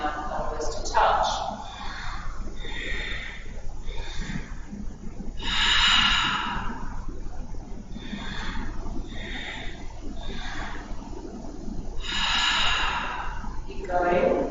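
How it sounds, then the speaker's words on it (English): Breathing exercise during a guided workout: repeated audible inhales through the nose and slower exhales through the mouth in a steady rhythm of several cycles, close and moderately loud, with a voice talking between breaths. "Inhale through the nose, exhale, relax the head back, breathing out through the mouth"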